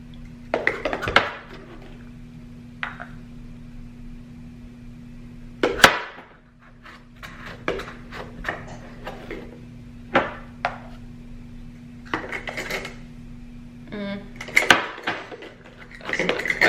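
Brown sugar being scooped with a half-cup measuring cup while baking gluten- and dairy-free chocolate chip cookies, giving scattered scraping, tapping and knocking clatters against a steady low hum, with a sharp knock near the middle.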